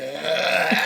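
A fart lets out in a podcast recording room, a continuous buzzy, raspy blast lasting under a second, close and loud with rising intensity toward the end.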